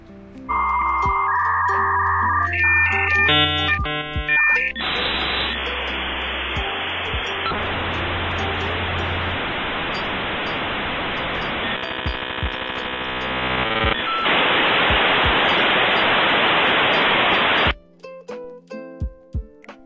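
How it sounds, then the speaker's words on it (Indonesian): A dial-up modem handshake: a sequence of shrill beeps and tones giving way to long hissing, buzzing screeches and warbling data noise, loud and continuous before cutting out near the end. "Modem sedang mengatur frekuensi ke sisi lain seperti berjabat tangan."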